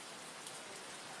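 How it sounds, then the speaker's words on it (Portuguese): Heavy rain pours down in a dense, steady hiss of drops on surfaces, faint and continuous, with no voices. "começou a piorar a chuva"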